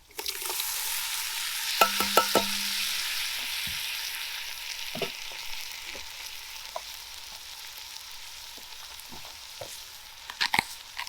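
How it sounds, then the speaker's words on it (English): Tomatoes tipped into a simmering lentil and vegetable soup over an open fire, with a steady sizzle and bubbling under scattered clinks and knocks of a stirring spoon against the pot; no talking. "So we're now going to add some tomatoes."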